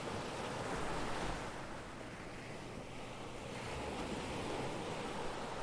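Ocean waves and wind in the game Dagon, a soft, steady rushing wash of surf and breeze, faint and continuous with no voices.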